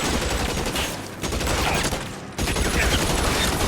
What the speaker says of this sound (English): this shooting over the wall thing does nothing